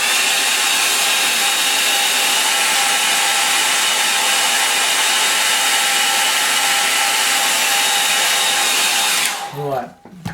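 A hair dryer blows steadily and loudly on a watercolour sky painting, a continuous close whoosh that holds for about nine seconds before cutting off abruptly.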